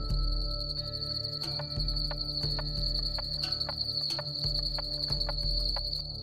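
A masked cave frog calls in a steady, high, continuous chorus, punctuated by scattered sharp clicks and ticks, with a low rumble underneath throughout.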